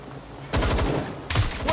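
Gunfire in the Watch Dogs Legion video game on Xbox One: two loud bursts of rapid automatic shots, close and harsh, the first lasting most of a second, the second starting shortly after.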